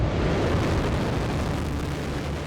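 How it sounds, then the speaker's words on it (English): A rocket launches from Earth with a sustained, broadband roar of engine thrust, loud and steady throughout like a continuous rumble, with no voices. "It'll begin with a series of rocket launches from Earth."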